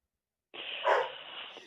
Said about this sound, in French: Oui, chien, taisez-vous.